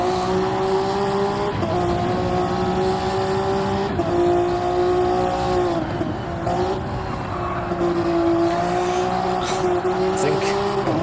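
A race car engine drones loudly and continuously on track, pitch rising and dipping through shifts and corners with brief tire scrub, while a commentator talks over it.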